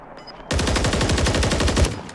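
A sustained burst of rapid automatic gunfire rattles loudly and up close in a bomb-defusal round of a collegiate esports match, after a brief near-silent lead-in.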